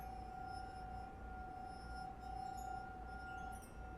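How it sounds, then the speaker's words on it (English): Soft glassy chandelier decorations clink faintly in a quiet interior in The Suicide of Rachel Foster, with scattered delicate tinkles over a steady low room hum. "Every time the window behind the bar was opened, the decorations would clink."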